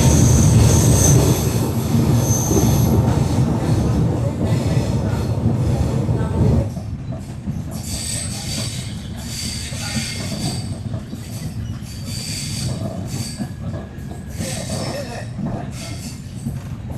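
The Bikaner–Prayagraj SF Express rolls along the rails with a loud continuous rumble and wheel squeal, then settles into a quieter steady clatter with rhythmic clicks as the ride continues.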